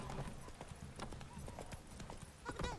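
Horse hooves clip-clopping in The Witcher 3, a steady rapid trot of repeated hoof strikes running the whole time, with a brief whinny-like call near the end and faint game ambience.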